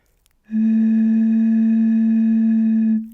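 A steady, pure whistling tone from breath blown across the mouth of a glass bottle partly filled with water, tuned to the note A, held loud and unwavering for about two and a half seconds with no talking.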